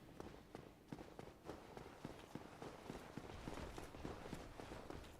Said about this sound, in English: really hear footsteps from something else